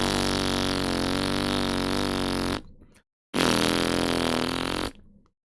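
Two long sustained buzzy beatboxed fart bass tones made with the mouth, loud and close, each lasting a couple of seconds and separated by a short silence; a voice imitates the sound.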